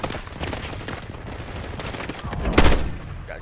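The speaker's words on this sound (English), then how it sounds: "Oh, I'm getting shot." Rapid gunfire in an online shooter game crackles in a dense, continuous burst, swelling to a louder volley near the end, with faint voice chat underneath.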